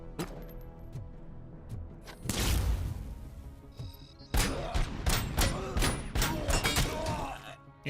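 Gunfire in the video game RoboCop: Rogue City, with a burst of shots midway and then a rapid string of sharp, loud reports over game ambience and clattering impacts.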